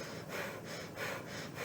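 A storyteller's voice imitates slow breathing, soft rhythmic breaths drawn in and pushed out several times in a row, close and quiet with no talk over them.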